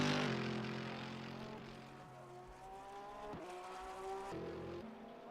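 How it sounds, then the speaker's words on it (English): A McLaren GT3 race car engine in rFactor 2 holds a steady high whine, then drops through quick downshifts around a corner before pulling again, loud and close with no voices. "McLaren even sounds good in rFactor"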